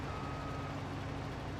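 A truck in Farming Simulator 22 gives a steady reversing tone over a loud, constant engine rumble, heard close and without pauses.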